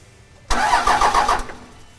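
A Cummins diesel engine with a newly installed VP44 injection pump cranks in one loud, close burst of about a second, its starter churning rhythmically without catching, with quiet before and after.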